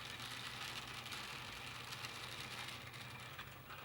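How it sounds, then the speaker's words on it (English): An antique Mueller Model 2 end-crank chain stitcher sewing machine being hand-cranked, producing a steady mechanical whirring chatter with a slightly uneven cam rhythm, close and continuous. "Interestingly, the cam drive on this end crank machine isn't as smooth as the much simpler front crank machines"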